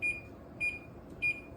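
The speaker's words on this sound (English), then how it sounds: "set my timer" Kitchen timer set while blueberry jam boils on the stove, giving three short electronic beeps at a steady pace, clear over a low bubbling background.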